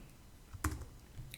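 Soft typing on a computer keyboard while entering spreadsheet data, a few quiet key clicks with one firmer tap, heard close in a quiet room.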